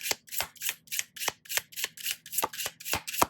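Tarot cards being shuffled in a dozen quick, evenly spaced riffling bursts with a soft low hum beneath, close and fairly quiet.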